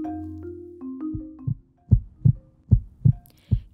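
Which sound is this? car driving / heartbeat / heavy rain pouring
heartbeat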